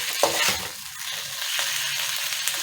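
Vegetables stirred and fried over high heat in a pan for palak gosht, a steady close sizzle with clattering stirring strokes at the start and no voices.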